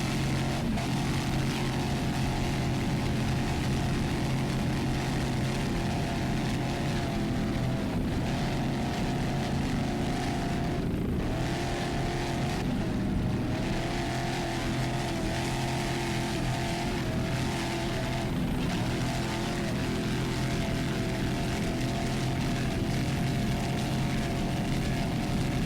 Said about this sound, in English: Screamin' Nuts is a 30-foot Phantom. It's a Chevy-powered boat.